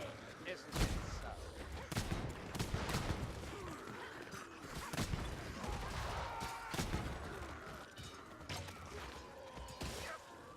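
Gunfire in the video game Vermintide 2 crackles through a dense battle mix, with repeated sharp shots spread across the clip among clashing mechanical noise and a steady din.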